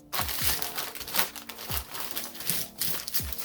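A crinkly chip bag is folded over to seal it, giving close, steady crackling and rustling with a few sharper crunches as the plastic creases.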